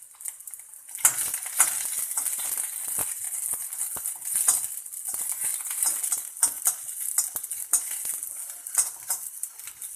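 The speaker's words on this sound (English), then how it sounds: "I am roasting green chilies in oil" Green chilies sizzling in hot oil in a small pan, a steady crackle of frying broken by irregular spoon scrapes and clinks against the metal, close and alone.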